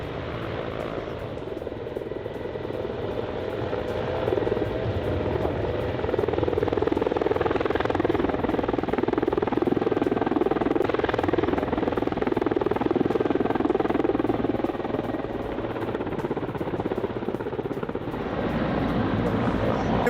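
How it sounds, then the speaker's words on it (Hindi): Three Czech Mi-171 military helicopters make a steady, loud rotor drone with a continuous throbbing hum that holds for the whole span, slightly swelling toward the middle. "पोलैंड में चेक रिपब्लिक के 3 Mi-171 हेलीकॉप्टर करेगा तैनात।"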